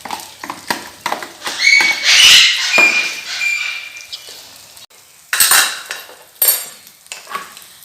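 Beaten egg mixture poured into a hot pan for an omelette, with scraping and clinking of utensils against the pan, a swelling sizzle and a few sharp metallic knocks, close and fairly loud, no talking.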